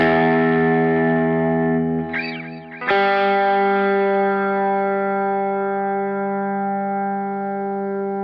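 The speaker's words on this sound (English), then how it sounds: "You sure hear it on the G string, right? You hear that?" A Kiesel Osiris electric guitar rings a sustained, effects-laden chord while its G string drifts sharp and flat; a short wavering bend cuts in near the middle before the chord settles and sustains steadily, with no talking.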